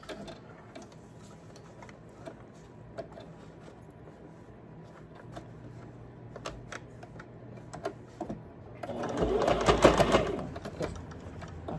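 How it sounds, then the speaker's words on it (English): A sewing machine runs a straight stitch across a fabric zipper bag, a soft rapid mechanical patter, quiet at first and building to a louder, denser burst of stitching near the end. "I'm going to go ahead and do a straight stitch across there"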